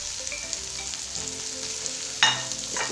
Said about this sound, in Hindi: इसको हम डाल के हिलाएंगे, थोड़ी देर सोते करेंगे इनको भी।